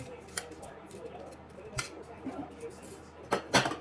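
A blade or kitchen scissors tries to cut through crisp fried seaweed rolls, giving a few sharp, scattered cutting and crunching clicks close by. The sounds are fairly quiet, and a voice can be faintly heard at times.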